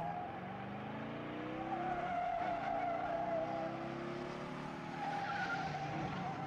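In the video game Over the Alps, a race car engine roars with a bellowing, shuddering drone while tires squeal and skid in long sliding tones, a continuous moderately faint mix with no talking.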